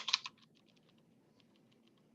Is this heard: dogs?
no